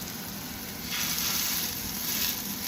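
Chicken maple breakfast sausage patties sizzling in a pan, a steady close crackle and hiss that swells partway through and stays continuous, with no voices.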